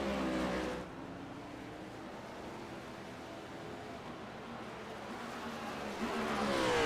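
A race car in the SPEED Cup Series at Indianapolis Motor Speedway rolls back into motion on track, its engine a steady mid-distance drone that swells louder near the end.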